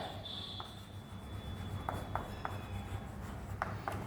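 An equation is handwritten with pen on paper in short scratchy strokes and taps, faint and close, with irregular pauses between the marks and no speech over it.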